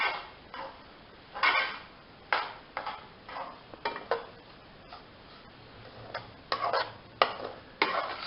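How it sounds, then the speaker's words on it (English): A spoon scrapes and taps through sooji halwa in a pan, irregular clinks and short scraping strokes repeating at close range with no talk. "Please continue mixing this mixture."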